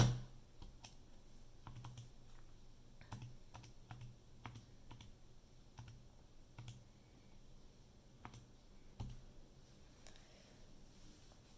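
Calculator buttons being pressed in a quiet room, a string of light, sharp clicks with uneven spacing, some tapped in quick pairs and others alone, all close to the device.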